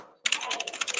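Rapid typing on a computer keyboard begins after a brief quiet moment, a dense run of close, crisp key clicks with no voices.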